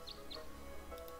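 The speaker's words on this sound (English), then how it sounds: "birds? They're even singing." Birds in a garden with a bird bath in the game Tangle Tower give a few brief, faint chirps over a soft background hum.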